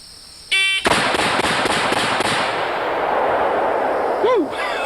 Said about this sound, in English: So let's see how long 6 aimed shots, or 6 rapid fire, as well as I can aim them, shots will take us.